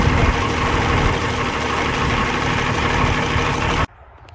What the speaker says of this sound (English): A running, freshly overhauled D-19 LP.